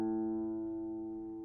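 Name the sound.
guitar A string played in tune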